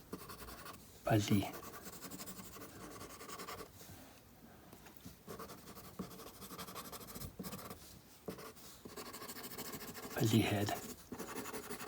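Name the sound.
drawing a spider sketch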